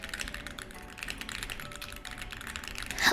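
Continuous rapid typing on a mechanical keyboard fitted with Black Reaper switches, close and clear, with dense overlapping key clacks and a louder burst near the end.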